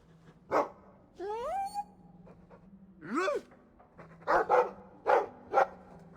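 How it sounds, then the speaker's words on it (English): Dragon Age 2 game audio: a dog gives several sharp barks and pants in separate bursts, near and fairly loud, alongside a few rising whine-like calls and brief breathy sounds. "I like the doggy."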